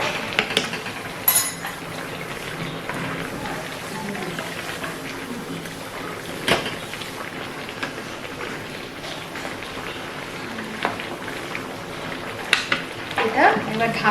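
Fish kalia sizzling steadily in a pan after garam masala goes in, a continuous close frying hiss with a few faint stirring and utensil clinks.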